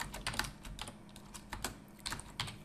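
Code being typed on a computer keyboard: a quick, irregular run of close, crisp key clicks, a dozen or so strokes in under three seconds with short pauses between bursts.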